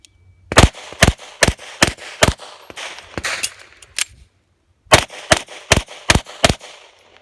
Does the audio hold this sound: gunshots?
yes